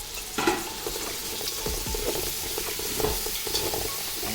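Biryani masala with coriander and mint leaves being stirred in a pot, a steady sizzle under repeated scraping strokes of the spoon, close and moderately loud, with no talk.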